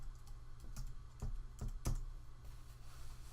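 Keys clatter on a computer keyboard as a file name is typed, a handful of quick, fairly quiet clicks with brief pauses between them over a low background hum.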